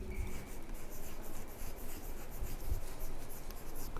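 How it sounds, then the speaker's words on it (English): Chalk or marker scratching across a board during a chemistry lecture on chemical kinetics, a steady rubbing and scraping of continuous writing strokes, close and fairly quiet, with no talking. "In third column, I will be writing the molecularity"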